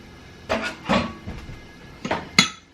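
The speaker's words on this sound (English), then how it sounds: "So I'm just gonna take out a bowl." A bowl lifted out from among dishes on a kitchen counter: a few hard clinks and knocks of ceramic, spaced irregularly with a sharper clatter near the end.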